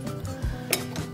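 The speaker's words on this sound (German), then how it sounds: "So, ich nehme ihn jetzt mit dem Knethaken ab." Bread dough with pumpkin seeds and hemp seeds being pulled off a mixer's kneading hook, with a few short metallic clinks and knocks against the bowl, close and clear.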